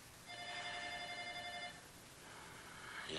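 An old-style telephone bell rings with a bright, sustained trill for over a second, then stops, leaving a faint hiss of room noise with a slight rise at the end.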